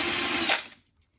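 Power screwdriver backing screws out of a Rane One DJ controller, a close whirring motor burst that spins down and stops after under a second.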